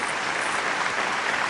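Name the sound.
audience applause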